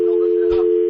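A radio call-in phone line cuts off, leaving a steady, loud electronic line tone that hums alone without a break, with a short burst of noise partway through.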